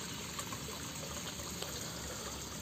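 Water pouring into a round tarpaulin goldfish pond while the pump runs: a constant, soft splashing trickle with a faint steady hiss, moderately distant and unbroken, no voices.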